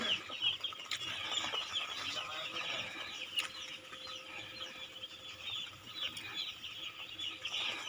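Broiler chicks, about 500 to a block, cheep continuously on a poultry farm, a dense high-pitched chorus with scattered louder peeps and occasional sharper calls throughout.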